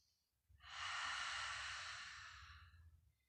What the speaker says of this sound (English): Nice full, complete exhale through the mouth